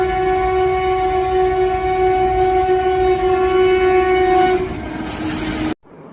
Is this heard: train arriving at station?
yes